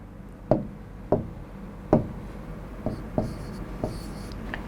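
Chalk or marker strokes land on a classroom board in a slow, irregular series of six sharp taps and scrapes, close and distinct against quiet room tone.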